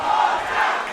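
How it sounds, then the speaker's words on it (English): Wrestling crowd at a West Coast Pro Wrestling event chanting in unison, a loud, sustained wash of voices filling the arena without a break. "Crowd chanting Ultra, wants to see it again"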